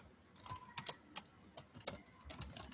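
Typing on a computer keyboard: quick, close, irregular key clicks with a couple of sharper taps, alone and fairly quiet.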